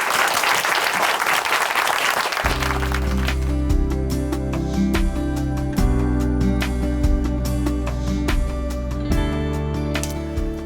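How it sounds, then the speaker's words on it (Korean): Loud applause from a large church audience welcoming a speaker, building into steady clapping with occasional sharp cracks and music-like tones underneath, continuing throughout. "춘천 한마음교회 김병렬 형제님 큰 박수로 모실게요."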